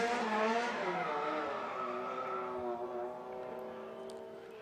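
A Nissan Silvia S15 drift car with a Lancer Evolution engine at a drift qualifying event, its engine wailing at high revs with strong sustained tone and tire squeal, loud and steady before easing slightly.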